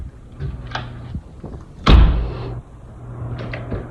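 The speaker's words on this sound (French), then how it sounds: "On ferme la porte" A door pushed shut against the winter cold, one solid thud with a brief rattle, preceded and followed by soft shuffling and handling noise nearby.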